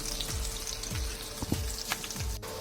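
Thin-sliced shallots and cumin seeds sizzle and crackle in hot oil as they are stirred for a fish-head stew tempering, with steady frying hiss and a few soft scrapes, close and alone.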